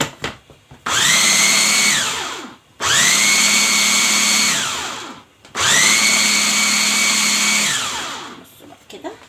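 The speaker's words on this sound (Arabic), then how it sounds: "هبدا كده اضرب تاني" Electric blender whirring loudly through three long bursts, each running a couple of seconds with short pauses between, blending a luncheon meat mixture; no talk.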